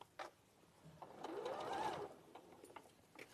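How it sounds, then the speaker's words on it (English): A sewing machine stitches fabric in a short, steady whirring run that swells and fades, faint and with no voices over it. "So I'm going to carry on sewing."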